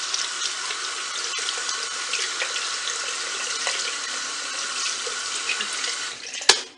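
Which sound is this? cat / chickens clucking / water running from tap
water running from tap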